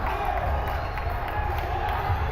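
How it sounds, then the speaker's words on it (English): Arena crowd noise at a college basketball game between SWAU and Ozark Christian in Texas, a steady loud roar of fans that holds throughout with no breaks. "The crowd is alive in Texas"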